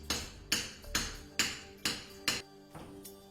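Power hammer forging high-carbon steel for a Japanese sword, with a series of loud, sharp metallic blows at a steady rhythm, each ringing briefly before the next strike, slowing and softening toward the end.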